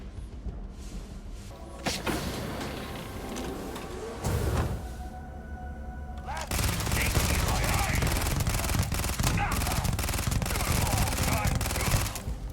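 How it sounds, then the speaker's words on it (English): Ballistic gunfire in zero gravity in the space game Starfield, played on a Steam Deck: sustained bursts of rapid shots with thumps and mechanical clatter, getting louder and denser in the second half, with a faint voice underneath. "if you shoot ballistic weapons in zero gravity, it pushes you backwards"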